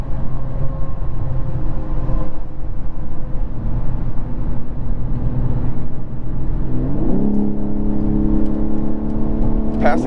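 A 2023 BMW M3 Competition xDrive engine holds a steady drone from inside the cabin, then its pitch climbs sharply as the car accelerates hard to pass.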